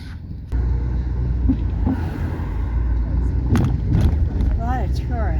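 A car driving through downtown Holland, Michigan, its steady low engine and road rumble filling the cabin from start to finish, with people talking inside over it.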